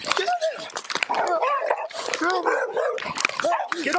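A dog barks and yips in rapid, agitated bursts close by during a police arrest, with shouted commands from officers overlapping the barking throughout.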